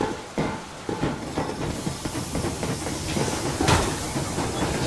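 Steam train from the game Metro Exodus rolling along, a steady mid-level rumble and hiss with faint rhythmic clanks and a brief louder hissing burst near the end, no voices.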